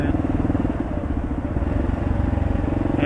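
Motorcycle engine on a ride through Olympia, Washington, rumbling steadily under deceleration with no popping, a continuous close mid-pitched drone with a rapid pulsing beat.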